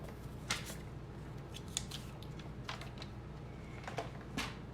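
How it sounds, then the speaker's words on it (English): Scissors snip through a strip of journaling paper during scrapbooking, a few sharp crisp cuts spaced irregularly over a low steady room hum, close and fairly quiet. "So I've got my strip of journaling paper, and let's cut it about"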